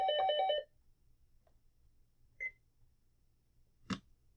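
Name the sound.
telephone ringing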